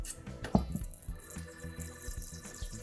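Pink water gushing from a burst balloon into a container for making slime, a close splashing pour with a sharp burst-like splash near the start, followed by trickling and dripping.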